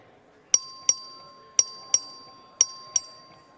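The voting bell in the Texas House chamber is struck six times in three quick pairs, each ring bright and metallic with a short decaying tail over a faint room murmur.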